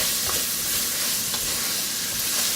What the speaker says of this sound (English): going to stir this together and let this cook for just a minute until the onions start developing some color